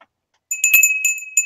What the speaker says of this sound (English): And it's a bell.